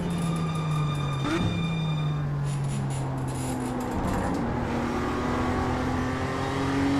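A race car engine in the iRacing sim drones steadily while the throttle is pumped, pitch rising and falling in a few surges over continuous road and tyre noise.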